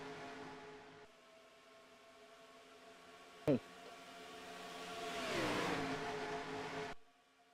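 Simulated race cars circle the Talladega superspeedway in a video game, a steady engine drone with one brief sharp spike and a swelling pass-by whoosh, heard under a commentator's talk.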